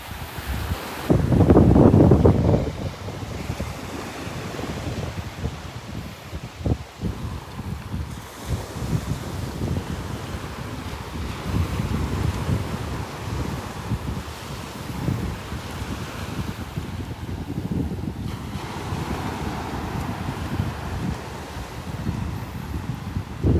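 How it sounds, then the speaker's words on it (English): Strong southerly wind roars across a beach in North Naples, Florida, on a winter morning, buffeting the microphone continuously with gusts over the low wash of surf, loud and unbroken throughout. "That wind is coming right straight up out of the south this morning."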